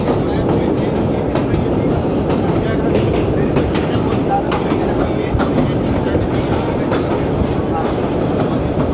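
The Shalimar Express 28DN passenger train runs on rails from Lahore to Multan, giving a loud, continuous rumble with steady clickety-clack wheel beats throughout, heard from inside the moving train.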